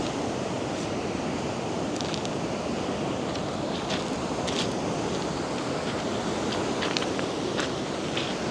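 Steady roar of ocean surf breaking against rocky shoreline at low tide, continuous and fairly loud with wind noise and occasional brighter splashes, no voices.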